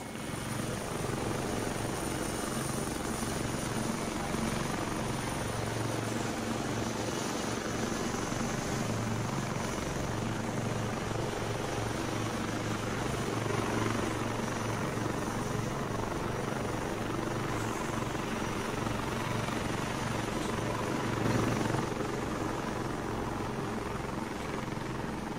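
Video game helicopter flying, a steady loud rotor and engine drone that holds for the whole stretch with slight swells, no voices.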